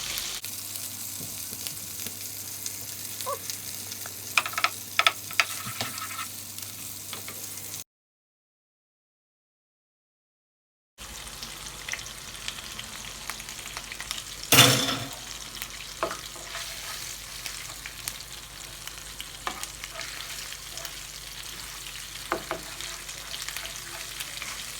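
Tomato paste frying in a pot for Haitian spaghetti: a steady close sizzle with clinks of stirring, broken by a brief silent gap, then a sharp scrape partway through.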